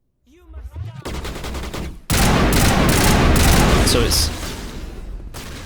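Assault rifle fire in Mass Effect Legendary Edition on PS5: loud, sustained rapid bursts that swell into continuous heavy gunfire, with someone briefly speaking at the start.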